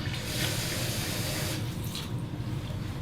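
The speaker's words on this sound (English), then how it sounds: "Now we're gonna need about a cup of water" Water poured from a measuring cup into a mixing bowl while preparing power pancakes in a home kitchen, a steady near splashing flow running continuously for the whole stretch without any talk.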